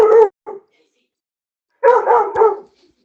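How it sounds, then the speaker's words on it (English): A dog barking indoors, close and loud: two short sharp barks, a pause, then a longer cluster of three or four rapid barks. "Crazy dog alert."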